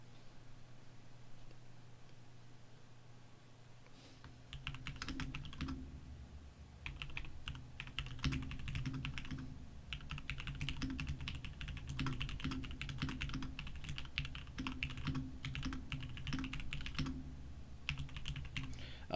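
Typing on a computer keyboard, with irregular bursts of clicking keystrokes starting after a few seconds and continuing in quick runs and pauses over a steady low hum, close and moderately quiet, with no voices.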